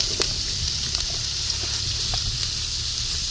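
Onions frying for chicken curry, a steady close hissing sizzle with a few brief clinks and scrapes of stirring, no talk.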